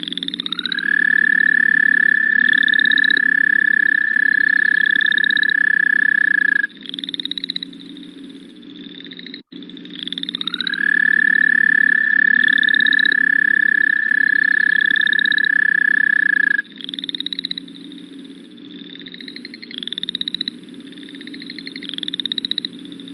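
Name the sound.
toad call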